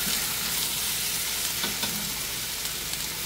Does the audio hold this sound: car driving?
no